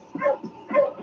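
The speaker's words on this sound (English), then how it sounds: "suddenly King began to bark" A sled dog named King barks twice in quick succession, each bark a clear, close, mid-pitched bow-wow with a short whimpering edge, set in an old-time radio drama scene in the snowy north.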